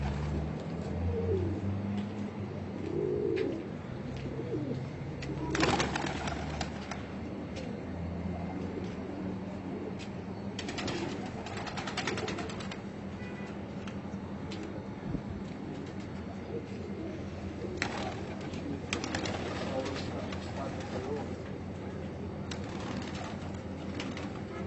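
Pigeons of the Muhayyarat breed cooing in soft, low repeated calls outdoors, with occasional brief bird flutters and steady background noise throughout.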